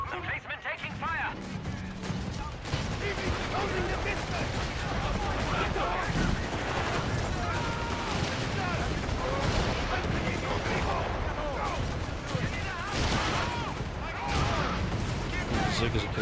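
Sustained, dense video-game gunfire pounds against a defensive emplacement in Final Stand, loud and continuous with crashing impacts, while a voice talks over it.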